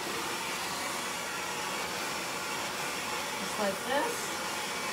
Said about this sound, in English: A nice clean blow dry.